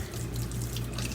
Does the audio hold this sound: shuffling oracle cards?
no